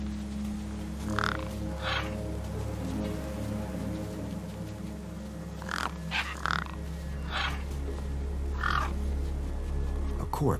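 Gang birds in the video game Beyond a Steel Sky, perched near a corpse propped against a rock, give several harsh caws in short bursts over a steady low ambient hum.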